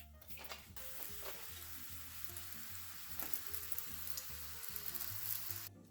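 Taco shells fry in hot oil in a pan for a homemade copycat Taco Bell Mexican pizza, giving a steady close sizzle and crackle. Low music plays beneath it and no one speaks.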